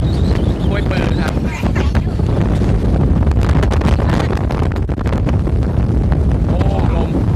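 Strong wind buffets the microphone of a cyclist riding beside a reservoir, making a loud, continuous rumbling roar with gusty flutter, while a voice briefly surfaces beneath it.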